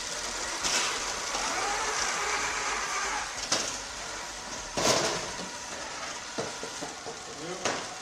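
Robot motors and gearboxes whir in a steady mechanical hiss with occasional clunks and sharper bursts, while people talk nearby.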